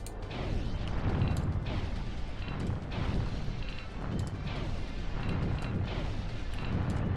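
Rapid, continuous shooting from a dragon in the Sega Saturn game Panzer Dragoon, a dense barrage of booming, crackling blasts that keeps up steadily and loudly throughout, with no voices over it.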